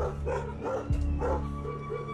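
A Pungsan dog named Boksil barks repeatedly from a monitor's video playback, a steady run of loud barks with a brief yip partway through, heard alone without talk.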